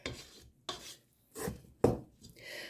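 A spatula scraping and mixing sticky focaccia dough in a bowl, four separate close rubbing strokes, each with a scratchy attack, one ending in a sharper knock.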